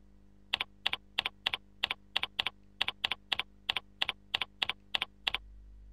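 Someone types on a computer keyboard, about fifteen crisp, evenly spaced keystrokes in quick succession, close and clear against a quiet background, with no talking.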